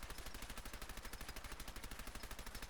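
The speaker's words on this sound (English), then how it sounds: "I've spent quite a bit of time around here blowing stuff up and shooting in the walls" Rapid automatic gunfire in the Fallout 4 video game, rounds striking walls with debris, a dense steady rattle of evenly spaced shots running unbroken and loud throughout.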